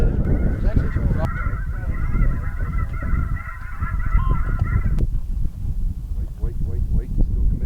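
Snow geese honk in a noisy flock against wind, their calls dense and continuous with a clear honking chorus in the middle section, close and loud outdoors.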